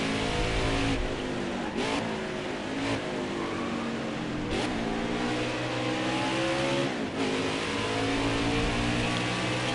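A race truck's engine in a racing video game pulls steadily under gentle throttle, a loud, continuous drone rising in pitch through gear changes, with brief dips at each shift.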